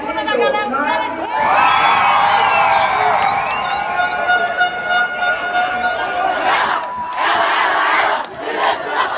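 A large crowd of Caprichoso boi-bumbá fans in Parintins, Amazonas, shouts and cheers in a loud, sustained roar, swelling and surging with scattered yells and chatter mixed in.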